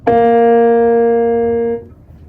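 A single trombone mouthpiece buzz on B flat, one clear sustained note holding steady for under two seconds before stopping abruptly, loud and close with nothing else around it.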